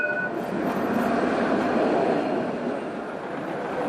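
A tram rolls through Sidi Bel Abbès, Algeria, a steady close rumble of wheels on rail with a broad hiss, continuous for a few seconds with no talk.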